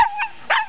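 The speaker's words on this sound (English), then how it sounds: "There's another dog along." A small dog on a hiking trail lets out two short, close, high yips or barks with a brief pause between them, with no speech.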